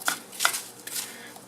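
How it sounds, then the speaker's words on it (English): Sodium acetate in a pan is chopped and stirred with a utensil, producing a few sharp scraping, crunching strokes at irregular intervals, close and fairly loud with nothing else in between. "the goal here is essentially just to cut it up and to stir it up"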